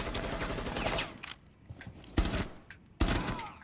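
Rainbow Six Siege gunfire in a Terrorist Hunt round: a sustained burst of rapid shots, then two sharp, loud single shots with quieter gaps between, close and with no talk.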